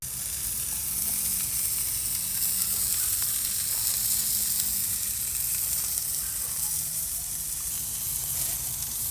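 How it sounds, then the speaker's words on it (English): Mild Italian sausages sizzle on a grill alongside a couple of pork chops, making a dense, even hiss that runs without a break and with no voices. "Alright, I just put them sausages on. They're mild Italian sausages."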